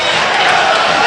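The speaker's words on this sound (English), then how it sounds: "even the main stand around us, even in the vegan prawn sandwich country behind us, getting involved with the hand clapping and the cheering" A football crowd at Forest Green Rovers against Southend United cheers and claps in a loud, dense wash of noise that fills a brief moment.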